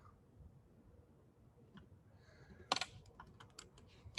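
Quiet keystrokes on a computer keyboard as code is typed during a computer science class, starting sparse and then turning into a quick burst of clicking taps, with no talking.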